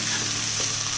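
Chicken seekh kebabs frying with onions and red and yellow capsicum while being mixed, a dense, steady, close sizzle lasting about a second with no speech.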